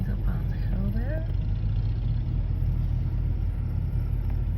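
A car cruising slowly along the wildlife loop road in Custer State Park in the Black Hills, South Dakota, giving a steady low engine and road rumble throughout, close and constant, with a brief voice early on.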